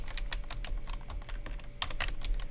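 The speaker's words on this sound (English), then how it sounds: "you can hit enter and it goes to your position, or you can use your arrow keys and just go down" Computer keys tapped in a quick, uneven run, crisp clicks close by with no voices, as data is entered into graphing software.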